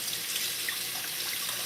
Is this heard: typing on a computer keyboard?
no